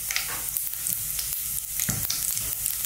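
Cumin seeds crackle and sizzle in hot sunflower oil, a bright continuous frying hiss dotted with small pops and an occasional stir, close and with no talking.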